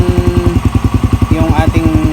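A motorcycle engine idles steadily nearby, its low rhythmic pulsing firing continuously throughout, with a voice speaking briefly over it in the middle.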